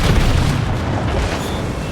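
Heavy naval gunfire from an enemy warship in World of Warships, a dense, sustained low rumbling boom filling the whole moment with no clear separate shots, loud and continuous.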